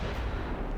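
A warship's big guns, 280mm main battery on the cruiser Leon Gambetta, boom in a naval battle game: one short, heavy, low blast.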